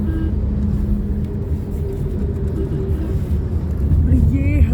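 Dense road traffic on arrival in Mumbai, a loud continuous engine rumble from inside a vehicle with a faint horn near the end and people talking over it.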